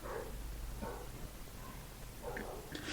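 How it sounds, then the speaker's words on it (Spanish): Dogs bark at a distance in a few short, scattered bursts over a steady low background hum, sounding excitable but fairly faint. "Sepan disculpar los perros que están ladrando, están como locos"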